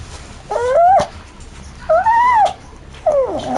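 A dog whimpers in three drawn-out, rising and falling whines, each about half a second long and separated by short pauses, close and clear against a quiet room.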